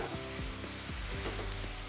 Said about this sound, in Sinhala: දැන් මම බටු බෙද ගන්නයි යන්නේ.